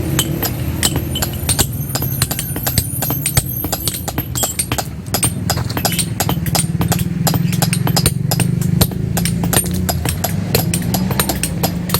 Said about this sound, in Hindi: पत्थर की गुलाई हो रही है जी।